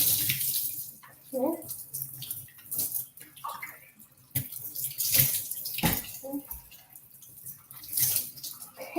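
Water runs and splashes irregularly while hair is rinsed under a tap, with gushes rising and falling and someone speaking briefly over it.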